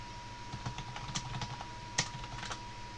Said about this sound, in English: I am just typing a message to someone.